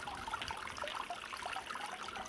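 Running fountain water splashes and trickles over crystals held in a mesh bag under the flow, a close, steady babble of small bubbling droplets with no voices.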